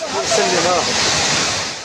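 Floodwater surges through the streets of Safi, Morocco, a steady broadband roar of rushing water, loud and close throughout, with indistinct voices mixed in under the torrent.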